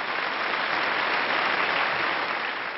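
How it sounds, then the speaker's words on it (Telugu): Studio audience applause from a Telugu television game show, steady and dense clapping filling the whole stretch without a break, loud and close with no voices on top. "అందుకు చప్పట్లు కొట్టండి."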